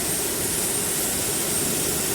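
Airliner jet engines whine and roar at boarding, a loud, steady, unbroken hum with a high hiss on top, no voices over it.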